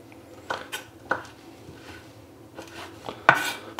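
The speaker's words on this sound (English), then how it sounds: "I just chop up pods just roughly like this" A kitchen knife roughly chopping used vanilla pods on a board, giving a few scattered sharp taps and knocks close by, the loudest near the end, with no talking.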